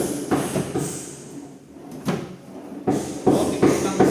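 A wooden cabinet with a swing door and an inner drawer being handled, giving several sharp knocks and sliding thumps in quick bursts, close and fairly loud, separated by short pauses.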